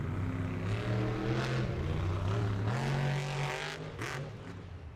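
Monster Energy monster truck roaring loudly as it drives over a bus and into a jammer at an Atlanta Motor Speedway Monster Jam event, engine pitch rising and falling steadily and close throughout.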